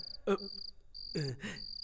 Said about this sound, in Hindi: अबे तेरी मच्छर की, यादव को काटता है।